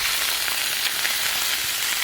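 Sausage sautés over high heat in a pan of ghee and oil, a steady dense sizzle and crackle of frying fat running evenly throughout, close and fairly loud, with no voices.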